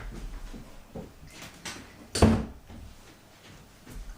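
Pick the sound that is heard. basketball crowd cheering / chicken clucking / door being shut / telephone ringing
door being shut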